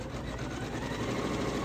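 A Janome S9 embroidery machine stitches out a single-colour design, its steady whirring mechanical hum running continuously and fairly loud with a fast, even rhythm and no pauses.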